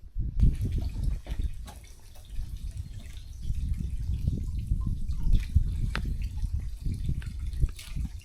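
Spring water runs out beside a pond in a steady, close, low gurgling trickle with small drips, continuing alone for the whole stretch.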